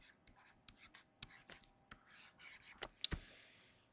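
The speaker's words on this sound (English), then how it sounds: "I'll just write out the formula first" Pen or pencil scratching out a physics formula by hand, short strokes and taps in an irregular rhythm, close and quiet with a sharper tap near the end.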